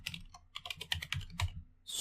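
Close, quiet keystrokes clatter on a computer keyboard in a quick irregular run of clicks, pausing briefly before another tap at the end.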